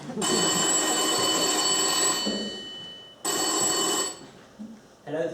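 An old-style telephone bell rings in a Blackadder comedy scene in two long, loud, steady bursts with a pause between them, and faint background noise fills the gap.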